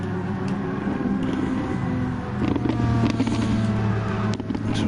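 Power Maxed Renault Megane Trophy race cars at Sardegna droning and revving together as the race gets under way, a steady close engine roar with rising pitch.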